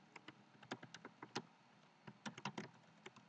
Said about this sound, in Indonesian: Saya langsung saja ketik ID Fakultas